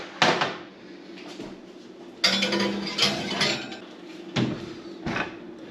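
A roasting pan holding a roughly nine-pound Canadian goose is set onto the bottom rack of a hot oven, with metallic clanks and knocks as the rack slides and the oven door moves, several separate bangs among quiet pauses.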